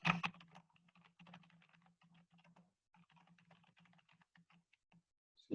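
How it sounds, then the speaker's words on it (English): Typing on a computer keyboard for entering a chart title, a steady run of close, crisp key clicks with a brief pause midway, then a final louder clack. "And so then you just want to type a descriptive title."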